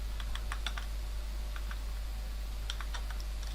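Typing HTML code on a computer keyboard: scattered quick clusters of light key clicks, close and faint, with pauses between bursts over a steady low electrical hum and no voice.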